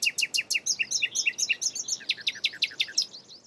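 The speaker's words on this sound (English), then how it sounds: "Nightingales are a mysterious and evocative bird known for their beautiful song." A nightingale sings nearby in a fast, rhythmic series of bright repeated whistled notes, loud and clear, shifting to a slightly different phrase partway through, against faint background hiss with no voices.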